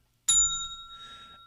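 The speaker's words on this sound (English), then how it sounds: "I think I hit the bell too quick" A single sharp strike on a small bell on a radio sports show, a bright ringing ding that rings on and slowly decays over about a second.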